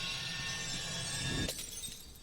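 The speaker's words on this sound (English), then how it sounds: "Smashes the Auracite again." Auracite, a crystal in the video game Final Fantasy XIV, is smashed: a sustained shimmering, ringing buildup breaks into one sharp glassy shatter that quickly fades, loud and close, with no voices.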